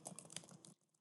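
Rapid keystrokes on a computer keyboard, a quick run of close, crisp clicks that stops abruptly near the end, leaving near silence.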